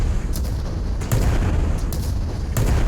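Airship cannons in the game Worlds Adrift fire a rapid series of booming shots over a constant deep rumble of wind and engines, each report sharp but partly blended into the dense background.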